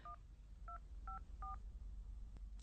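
Four paired-tone keypad beeps at a steady rhythm as a mobile number is dialed on a telephone, fairly clear over a faint background hiss, followed by a soft click.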